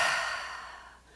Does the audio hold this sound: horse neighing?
no